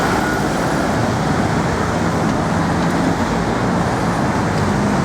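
Steady, loud traffic roar fills a London road, with cars and buses passing continuously and no talking.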